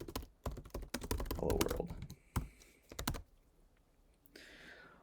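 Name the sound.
typing code on a computer keyboard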